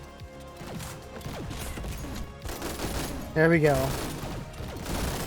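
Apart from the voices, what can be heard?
Thunderlord gun firing in the video game GTTOD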